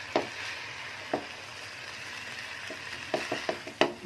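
Chicken and vegetable fried rice being stirred in a pan, a steady sizzle of frying under scattered sharp clinks and scrapes of the spatula, close and moderately loud.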